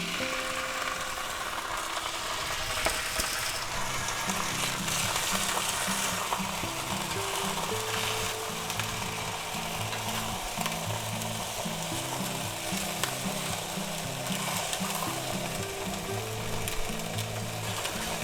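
Pre-cooked ham slices sizzle steadily in a hot pan for grilled sandwiches, with a constant close frying hiss and a few soft scraping stirs.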